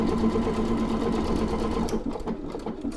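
A Pfaff Creative Icon 2 sewing machine stitches out a decorative pattern, a steady fast whirring hum with a regular rhythmic pulse that softens and turns more uneven near the end.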